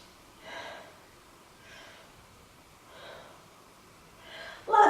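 Slow, soft breaths drawn in and out during a beginner yoga pose held for three breaths, four gentle airy swells spaced evenly, ending with a louder rustle close by.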